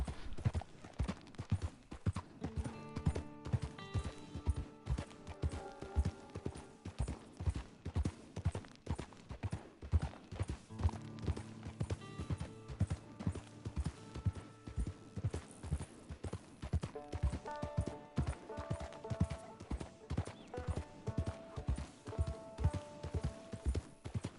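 Steady, rhythmic hoofbeats of a horse galloping in Red Dead Redemption 2 Online, running continuously with game music beneath.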